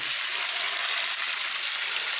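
Minced beef fries in a pan for a spaghetti bolognese, a dense, even, loud sizzle with no pauses.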